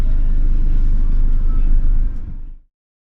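A Sprinter van creeping slowly through a tight town street in Bragança, Portugal, its low engine rumble close and steady before cutting off abruptly near the end.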